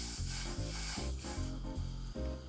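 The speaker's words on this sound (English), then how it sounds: "So as you can see, it's boiling." Chai tea with milk boils on a gas stove, giving a close, continuous bubbling hiss with a rhythmic low pulsing of the boil.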